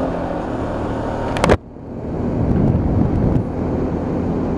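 A Lexmoto LXS 125cc motorcycle being ridden, its engine running steadily under heavy wind rush, with a short sharp burst just before a brief dip and then a rising drone.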